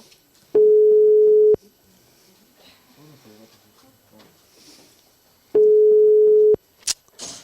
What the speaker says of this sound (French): Ça sonne.